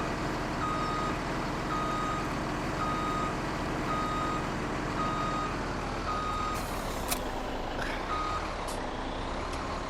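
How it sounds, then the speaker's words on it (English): A truck hauling two huge trailers pulls out in Farming Simulator 17, with a steady engine rumble, repeated reversing beeps and a short air-brake hiss near the end, all continuous and fairly loud. "There's a truck pulling out with 2 huge trailers"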